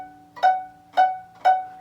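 A violin plays three short, evenly spaced bowed notes of F sharp, fingered with the first finger on the E string, each clear and close with a bright attack.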